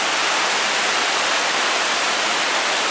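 A river rushes through the Great Smoky Mountains National Park, a steady, full broadband roar of whitewater that holds unbroken and loud throughout, with no voices over it.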